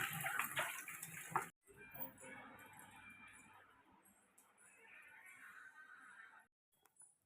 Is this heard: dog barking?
no